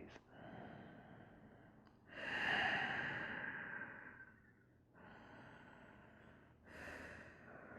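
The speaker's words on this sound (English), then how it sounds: "just breathe" Slow, calm breathing during a half pigeon yoga pose, close and soft, with a drawn-in breath followed by a long exhale and then further gentle breaths in a relaxed rhythm.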